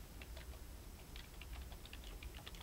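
Quiet, rapid keystrokes on a computer keyboard as a keyword is entered, a soft continuous patter of light clicks over a steady low background hum.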